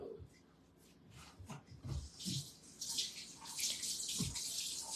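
Water runs and splashes at a sink while dishes are washed, with intermittent hissing bursts and light clinks nearby, under people talking in the room.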